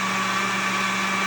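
Small cheap blender whirring steadily as it purees sea moss into gel, a continuous close motor whine with a constant hum and no pauses.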